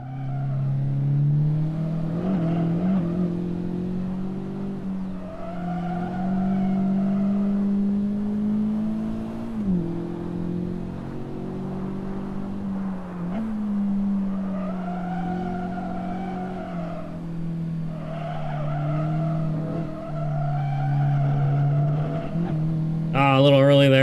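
A race car on a track at practice for a NASA club weekend at CMP, engine droning steadily with tire squeal and skidding under braking near the start-finish, loud and continuous from inside the car.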